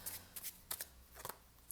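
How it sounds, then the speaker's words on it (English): Soft riffling bursts as a deck of homemade message cards is shuffled by hand, several quick flutters in succession, faint and close with no talk. "so I'm going to give them a shuffle"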